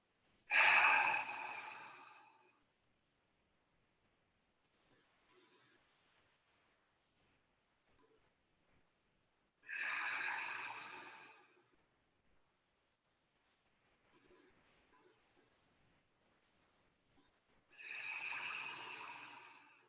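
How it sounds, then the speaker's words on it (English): Slow, deep breaths during a yin yoga session, three long loud exhalations through an open mouth roughly every eight seconds, each followed by a quieter, faint inhale. "Breathing in the prana energy into every cell in your body."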